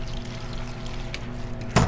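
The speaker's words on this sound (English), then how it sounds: "Was that more water that you added into the glass, or?" Water is poured into a cocktail glass to chill it, a low steady trickle ending in a brief louder splash near the end, close and alone.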